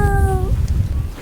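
A cat meowing into a VR headset microphone, a single short tonal meow at the start, loud and close, followed by low background murmur.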